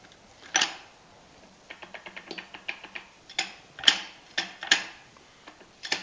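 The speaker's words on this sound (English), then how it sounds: "Look how nice that spins now with the new bearing." Restored Fordson F belt pulley attachment spinning freely on a new bearing, heard as a run of light mechanical clicks and ratchety ticks with a few sharper clacks, close and fairly quiet.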